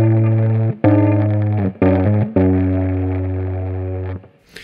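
An electric guitar's low E string is played with a plastic clip attached, giving loud, buzzy, distorted sustained notes in several separate strikes that decay slowly, each cut off before the next, with no talking.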